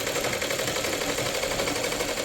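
A sewing machine runs steadily while stitching a Rajputi kalidar lehenga, giving a continuous close, even mechanical whir with a fast rapid stitching rhythm and no break.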